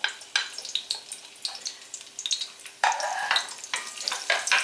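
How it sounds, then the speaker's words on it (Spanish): Garlic cloves dropped into hot oil with bits of leek, sizzling and crackling up close in bursts, the frying surging louder partway through as more goes into the pan. "tenemos chisporroteando el aceite, que hemos echado unas miajillas de puerro para que nos indique cuando está caliente"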